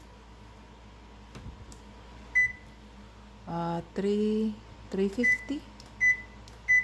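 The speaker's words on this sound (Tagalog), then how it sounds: "We're gonna preheat the oven to" Oven control panel being set to preheat: several short, clear electronic beeps spaced irregularly, with someone talking between them.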